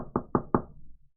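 Three sharp, evenly spaced knocks sound close by on a sliding door during a Stars Without Number tabletop game. The knocks come quickly in a row, then silence follows.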